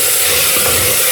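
Tomato paste sizzling in a hot pan, a loud, steady, close frying hiss with faint stirring, no talk.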